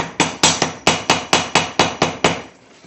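Hammer tapping an electrical connector into place through a block of wood, about ten sharp, loud, evenly paced knocks close up, each with a short decay, then quiet.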